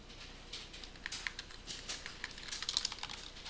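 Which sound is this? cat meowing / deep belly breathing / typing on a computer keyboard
typing on a computer keyboard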